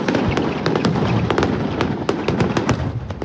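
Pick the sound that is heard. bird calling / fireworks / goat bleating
fireworks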